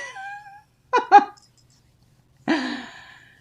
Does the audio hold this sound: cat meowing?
yes